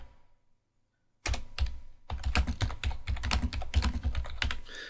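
Computer keyboard typed on nearby, with a brief quiet start and then a quick run of crisp key clicks and taps in an uneven flurry, with no voices.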